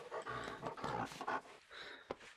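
Rufus, a dog in Red Dead Redemption 2, makes soft indoor dog noises, with panting, snuffling and a brief whine or growl, all close and quiet.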